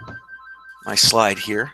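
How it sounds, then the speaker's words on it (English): A telephone rings in the background with a steady repeating electronic tone, then a voice talks over it and buries it. "Apologize for that phone in the background."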